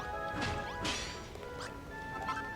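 A giant hammer smashing blocks in Dragon Quest Builders 2: several crunching whacks with swishing swings in quick succession over a steady game music bed, close and loud.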